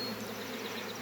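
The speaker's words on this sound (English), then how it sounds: "There's bees everywhere." A dense swarm of honeybees drones steadily at a bee yard, a continuous close buzzing hum that fills the whole moment without pause or voices.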